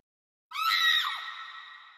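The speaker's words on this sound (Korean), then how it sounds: "비명이 터져 나옵니다" Women screaming during a violent fight between two in-laws at a wedding: one sudden loud, shrill, wavering cry that starts abruptly and slowly fades over a second and a half, with no talk over it.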